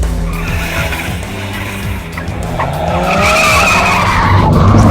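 Cars drifting on a Pakistan Air Force racing track in Karachi, with tires squealing in long skids over continuous engine roar that swells louder toward the end.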